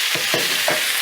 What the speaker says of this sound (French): Faire sauter nos pommes de terre. Juste un peu d'huile d'olive.